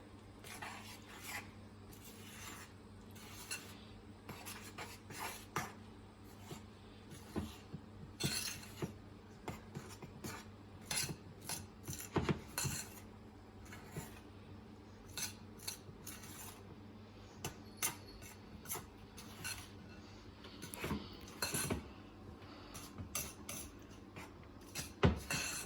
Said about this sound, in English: Mix it with the broad blade knife.